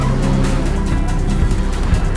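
A car is driven hard along a mountain road in a Tokyo Drift scene, with a loud, continuous engine roar and rumble, mixed with rushing noise and brief sharper bursts.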